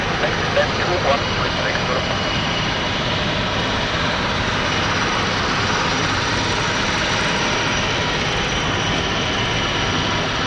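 A Helvetic Airways Embraer E2 jet at London City Airport gives off a constant, broadband engine roar that fills the whole stretch without letup. It stays loud and fairly near, with no clear rise or fall in intensity.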